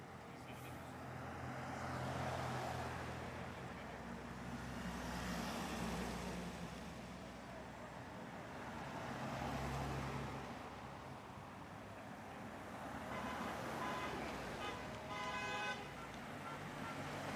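Road traffic rolls past in waves, with cars and trucks surging closer and fading again and a horn sounding near the end, while people talk faintly underneath.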